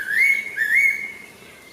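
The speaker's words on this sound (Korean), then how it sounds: "나뭇가지에 앉은 새가 짧은 꽁지를 까닥이며 독특한 울음소리를 냅니다." A fairy pitta perched on a branch gives a clear, close whistled call of two rising-falling notes, then a fading tail.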